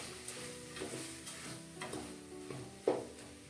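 Sambar powder is stirred into a pan of sambar for Malabar spinach over a low flame, a soft sizzle running under repeated scraping ladle strokes, with a sharper knock near the end.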